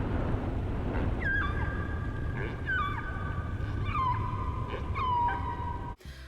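Humpback whale song in waters around the UK, a series of rising and falling tonal calls repeating roughly every second over a steady rumbling background noise, ending abruptly.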